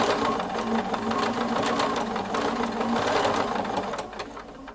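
A Bernina 770QE Plus sewing machine runs steadily for several seconds, its needle mechanism producing a fast, even mechanical whir with rhythmic ticking, close and continuous before easing off at the end.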